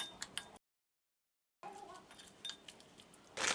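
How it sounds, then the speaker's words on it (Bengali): Spicy Nepali street-food chaat ingredients are stirred together with sauce and tamarind water in a bowl, giving faint, scattered clinks and scrapes of a spoon, broken by a brief silence. "এই উপকরণগুলো একসাথে মিলিয়ে নিব"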